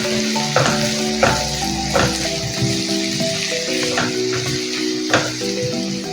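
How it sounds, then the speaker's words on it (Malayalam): Chopped white onion and garlic sauté steadily in a hot pan, a continuous close sizzle with a few soft scrapes of stirring, no voices over it. "വൈറ്റ് അണിയൻ ഇങ്ങനെ കുഞ്ഞു കുഞ്ഞായിട്ട് ചോപ്പ് ചെയ്തതുകൂടെ ആഡ് ചെയ്ത് നല്ലപോലെ സോട്ട് ചെയ്യാം"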